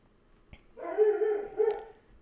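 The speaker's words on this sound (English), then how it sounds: "Dog is protecting his house." A dog at home barks at a passerby, a short, close, fairly loud burst of two or three tonal barks that drops into a soft whine, with quiet background otherwise.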